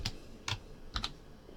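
A few quiet, separated keystrokes on a computer keyboard, close but soft, with pauses between taps and no voices.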